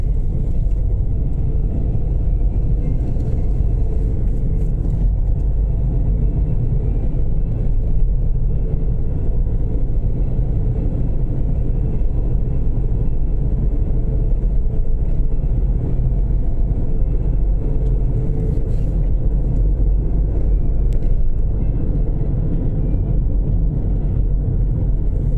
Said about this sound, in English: This truck coming.